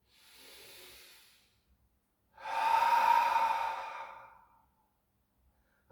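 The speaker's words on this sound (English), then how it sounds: "Full breath in." A deep, slow inhale during a yoga practice, following a softer breath, alone in near silence with a brief sound at the very end.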